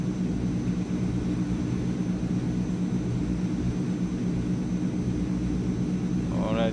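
Transall C160 military transport engines drone steadily during a climb in Microsoft Flight Simulator, a dense, unbroken roar with no change in level and a brief voice creeping in at the very end.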